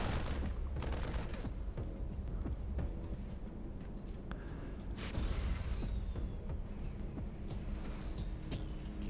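Marines firing in StarCraft 2: rapid clusters of small-arms shots crackle throughout over a dense rumbling game soundscape, with occasional whooshes and a brief booming impact partway through.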